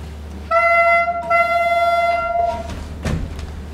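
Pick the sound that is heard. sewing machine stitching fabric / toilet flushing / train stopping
train stopping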